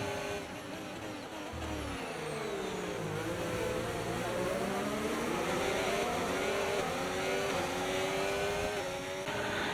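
Formula 1 race car engines from the F1 25 racing game during a Chinese sprint race, loud and continuous, with harmonic whines rising and falling through gear changes as several cars run close together.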